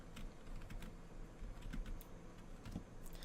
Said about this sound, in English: Let me get my keyboard here.